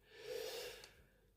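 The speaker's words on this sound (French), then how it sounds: "J'essaie de respirer parce que je me suis fait un peu essouffler" One faint, heavy breath from a person who is out of breath after exertion: a drawn, airy inhale-exhale lasting about a second, close and quiet, with no talking.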